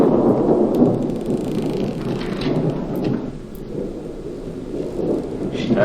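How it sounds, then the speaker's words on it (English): A thunderstorm in the video game Burnhouse Lane: steady heavy rain with a low rolling thunder rumble runs unbroken for the whole stretch, dense and close, with no voices. "Looks like a storm coming up."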